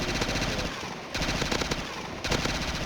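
Rapid bursts of video game gunfire from a Simpsons game, loud and dense automatic shots in two or three clustered volleys with brief gaps between them.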